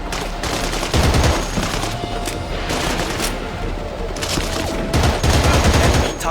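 Continuous dense gunfire from Battlefield 2: Modern Combat on PS2, with bursts of automatic weapons layered over rumbling explosions in a busy battlefield mix, loud and sustained throughout with no pauses.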